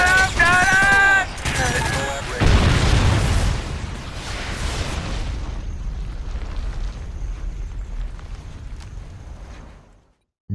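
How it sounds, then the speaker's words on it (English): Chem strike blasts in the video game Call of Duty: Ghosts, a dense, loud string of booming explosions and bursts layered over game voices, fading into a long rumbling tail before cutting off. "Friendly chem strike incoming"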